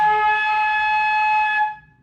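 A flute holds a high A flat for about a second and a half, a steady bright sustained tone close up that tapers off at the end, with no voices.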